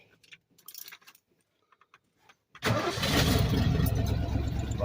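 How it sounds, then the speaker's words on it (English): After a carburetor's stuck needle valve is cleaned, keys jangle briefly, then the engine cranks and catches, settling into a steady, loud, close idle with no talk. "Fired right up, not flooded."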